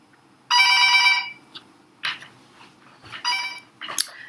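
Telephone bell ringing in bursts, a loud electronic trill repeating twice with short gaps, close by in a quiet room with faint clicks and rustles between rings.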